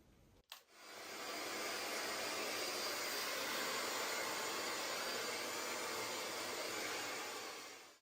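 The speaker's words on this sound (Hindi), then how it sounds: "मैंने ना सिर्फ बालों को ड्राई किया" A hair dryer blows hair dry, kicking on after a brief click and running as a loud, steady whoosh close by for the rest of the stretch, with no talking.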